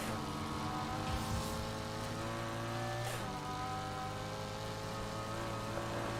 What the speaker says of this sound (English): So you see a Lamborghini driving at high speeds, doing 100 and something miles per hour